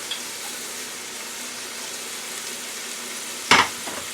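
Broccoli fries in olive oil with a soft, steady sizzle and crackle under a faint hiss, and a sharp clatter of stirring or a utensil lands near the end.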